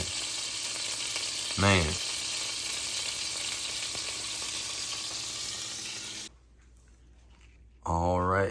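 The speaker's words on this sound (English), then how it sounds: "Got the oils popping and doing their thing." Flounder sizzles and pops steadily in a pan of oil and butter, a loud continuous fry that drops to a quieter hiss near the end, with a voice briefly over it twice.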